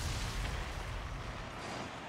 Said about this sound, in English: I like that goal explosion